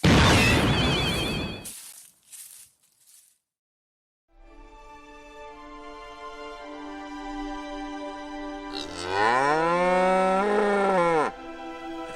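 Cattle on a Polish village farm moo in a long, loud, drawn-out call that swells near the end, following a brief burst of other noise and a quiet gap.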